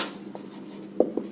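Marker or chalk writing on a board during a chemistry lesson on chemical reactions, a soft steady scratching with a few sharper taps near the end, close and fairly quiet.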